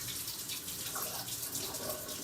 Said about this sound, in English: I'm going to fill this partway up with warm water